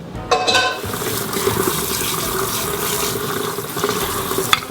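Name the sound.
rinsing boiled lamb chops under running water in the sink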